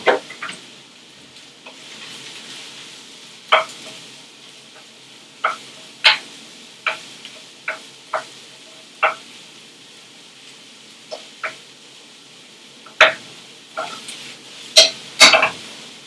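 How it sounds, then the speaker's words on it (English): Shallot, garlic and mushrooms cooking in a hot pan, a faint steady sizzle broken by a dozen or so sharp clicks and scrapes of a utensil against the pan, with louder knocks near the end. "We're going to cook the shallot, garlic and mushrooms for about 3 to 4 minutes"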